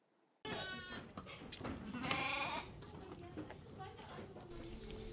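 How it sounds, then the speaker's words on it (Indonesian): Hundreds of sheep penned at an animal trader's stall in Samarinda ahead of Eid al-Adha bleat repeatedly, near and overlapping, while a person talks over them. "Ratusan domba di kandang milik pedagang hewan di Jalan Muang Dalam, Samarinda Utara, disiapkan untuk perayaan Idul Adha 1446 Hijriah."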